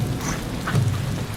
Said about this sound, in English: We're going back as it started raining.